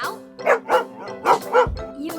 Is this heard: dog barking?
yes